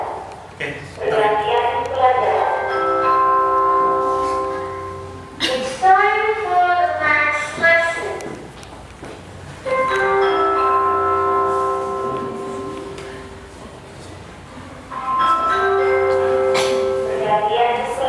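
An electric school bell rings in long stretches across a classroom, loud tonal ringing broken by short pauses, with a teacher and students talking faintly underneath.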